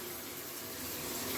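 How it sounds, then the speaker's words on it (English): Water gushes steadily from a Delta shower faucet after its cartridge replacement, a soft, even hiss that runs without a break and swells slightly toward the end, with no talk. "Turn that on. Water comes through, tickety-boo."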